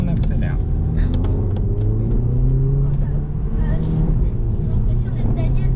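A car accelerating on the road produces a continuous engine rumble that holds steady and full throughout, with no clear pauses.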